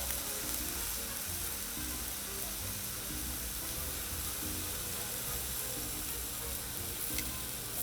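Churrasco steak sizzles steadily on a Blackstone 22-inch griddle, a continuous close frying hiss throughout with no talk.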